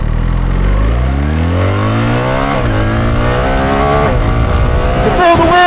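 A BMW R1300 GS motorcycle with an automatic gearbox launches hard. The engine roars loud and close, its pitch climbing steeply through rising revs and then sweeping up again after a shift, with a rider's voice faintly underneath.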